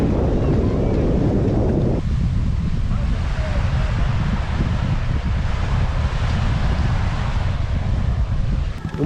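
Sea waves and surf wash steadily at a sandy, rocky river mouth in Cuba, a broad continuous roar with heavy wind buffeting the microphone and no clear breaks between swells.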